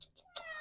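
Ash, a female house cat, gives a short, faint meow after a couple of tiny chirping sounds, close by and without talk.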